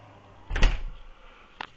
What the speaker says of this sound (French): on va fermer la porte